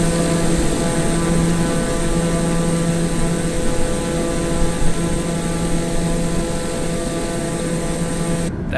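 Steady, loud drone of a TBM930 turboprop engine in Microsoft Flight Simulator, holding constant at cruise power with a continuous propeller hum and faint tonal whine throughout.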